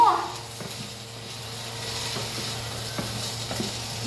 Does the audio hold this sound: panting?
no